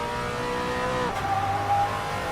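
A 2018 Brabham BT62 race car on track in a VR racing game, its engine howling steadily at high revs with a shift in pitch midway, loud and close with no talk.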